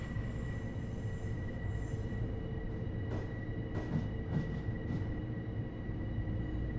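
A Long Island Rail Road passenger train ride in World of Trains: a steady, loud rolling rumble of wheels and carriage with a faint tonal hum, occasional soft clicks and knocks over the rails, and no voices.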